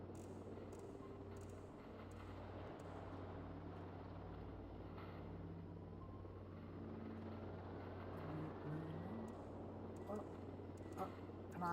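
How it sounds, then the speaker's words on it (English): A helicopter drone in the video game Voices of the Void gives a steady low rotor drone and hum through the whole stretch, fairly loud and unbroken, with a few faint clicks and a rising whine near the end. "Now I get to deal with the annoying helicopter noises in my ear"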